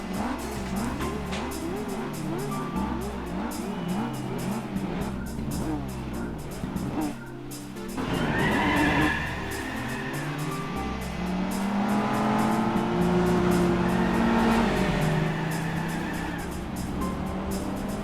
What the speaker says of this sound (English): I just wanted to see it spin tires like that